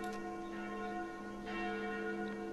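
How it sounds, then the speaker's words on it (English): Church bells peal in the video game Sucker For Love, a steady sustained ringing with overlapping tones and a few louder strikes, moderately loud with no talking. "Those sound like the church noontime bells."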